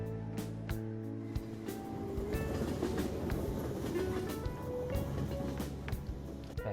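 A subway train runs in Persona 5 Royal: a steady, loud rolling rumble with rhythmic clickety-clack wheel knocks and metallic squeals throughout, continuous and close, with no voices.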